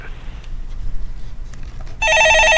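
A telephone rings with a sharp, repeating electronic trill that starts suddenly near the end, after quiet background murmur in a broadcast studio.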